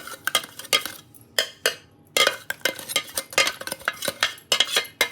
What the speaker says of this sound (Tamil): சர்க்கரையை கரைச்சி கொண்டு வந்து சேர்த்து கலக்கிறேன்